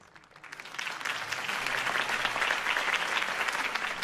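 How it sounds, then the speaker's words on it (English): Crowd applause in the video game Batman: The Telltale Series, swelling quickly from a few claps into sustained, dense clapping and cheering that carries on steadily. "could have heard that applause"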